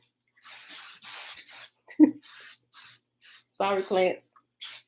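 Short hissing bursts of a spray bottle or can being sprayed around a kitchen, repeated several times in quick succession, fairly close, with people talking briefly in between.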